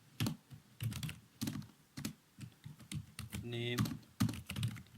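Rapid keystrokes on a computer keyboard while Python code is entered, coming in quick bursts and short runs, with someone speaking between and over the typing.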